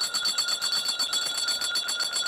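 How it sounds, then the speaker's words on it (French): An electric bell rings continuously to announce the court members' entrance at a presidential swearing-in ceremony, a rapid, steady metallic clatter that is moderately loud and heard without speech. "La cloche est en train de retentir pour annoncer leur entrée."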